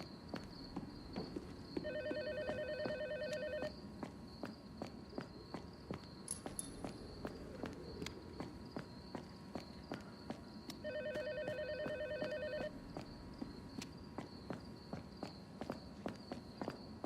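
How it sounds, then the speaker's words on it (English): A telephone rings in two long bursts of bright electronic trills, separated by a pause, inside the horror video game Tormented Souls 2, over a background of footstep clicks and steady insect-like ambience. "Where's this phone ringing at?"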